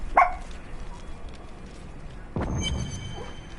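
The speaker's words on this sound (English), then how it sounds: "Sorry for the howling. My dog is going crazy." A pet dog named Cleo barks and yelps indoors in two short, loud bursts: one at the start and one after a pause, followed by a lingering whine.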